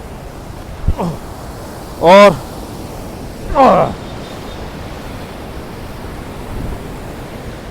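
The Yamuna river at Wazirabad rushes in a steady broadband hiss of flowing water beneath a flyover, with someone speaking briefly in short bursts over the constant roar.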